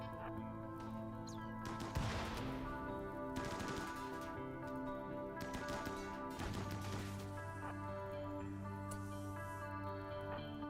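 Gunfire in RimWorld, bursts of rapid shots arriving in several clusters over ten seconds, with sharp cracks against a steady droning background of game music.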